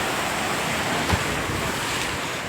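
Sea waves at Ross and North Bay Island, a loud continuous wash of surf mixed with heavy wind rumble against the microphone, no clear talk.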